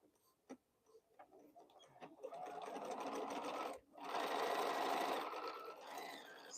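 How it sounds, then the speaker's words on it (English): A sewing machine stitches a quilt piece, running in a steady, fairly loud whirring burst that pauses briefly before resuming, with a few faint taps and clicks before it starts. "So I'm just going to sew this piece on here and then cut off what I don't need."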